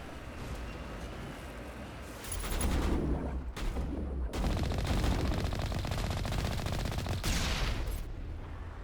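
Sustained machine gun fire from the video game Mass Effect Legendary Edition, dense rapid bursts with a few short gaps, over a steady rumbling background.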